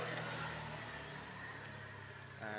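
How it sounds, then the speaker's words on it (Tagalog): Motorized tricycle engine idling nearby, a low steady rumble with a faint irregular putter under quiet street ambience. "tatawag na tayo ng tricycle"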